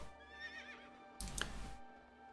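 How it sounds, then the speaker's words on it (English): A horse mount in World of Warcraft gives a quivering neigh, followed by a brief louder burst of snorting and hoof scuffing, heard faintly in a quiet game scene. "Need to be on my horse really."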